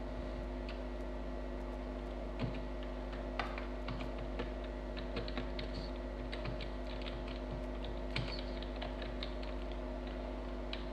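Text is typed on a computer keyboard while writing an SQL query: faint, irregular key clicks tapping over a steady electrical hum, with no talking.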